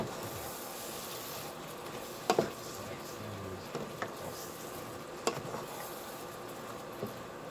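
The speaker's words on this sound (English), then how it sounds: "Let that simmer for a minute" Shrimp simmer in a pan with a soft, continuous bubbling hiss and a few faint clicks and taps, steady and moderately close, with a little low background noise.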